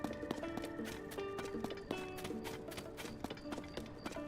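A horse galloping in the video game Tears of the Kingdom, rapid regular hoofbeats over a busy game soundscape with tonal music notes, steady and moderately loud throughout.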